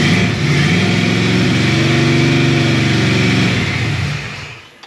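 A 1965 Chevrolet Malibu with a 383 stroker engine runs at a steady, loud, throaty idle close by, with a slight rise and fall before it sputters and dies away at the end.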